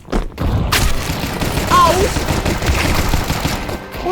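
Gunfire in the video game Counter Strike 2, a dense stretch of rapid shots and booming impacts running through the whole span, loud and close, with a short shout from a player over the action.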